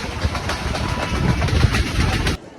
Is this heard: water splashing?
no